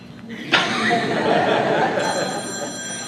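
A cell phone rings in a room during a square dancing talk, a bright electronic ringtone that begins abruptly and continues steadily, with faint voices and a little laughter underneath.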